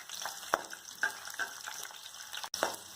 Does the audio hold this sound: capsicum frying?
yes